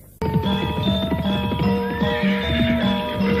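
A horse whinnies loudly and close in a radio drama, its shrill neigh held over steady hoof clops and faint jingling, with no talking.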